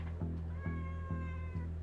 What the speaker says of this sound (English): Looks like we got a little cat here screaming at me.